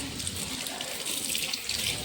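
Beetroot being washed under a running kitchen tap, a steady broadband rush of water splashing into a sink that stays even and close for the whole stretch, with no talking.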